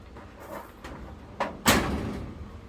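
A door swung closed in a room that opens onto a bright sunroom-like space, heard as a couple of light knocks and then one firmer thud as it meets its magnetic catch over quiet room tone.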